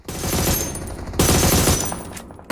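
Rapid automatic gunfire from the battle royale shooter PUBG Mobile rattles loudly and continuously in two dense bursts, with a short break between them and a fresh crack at the end; no one talks.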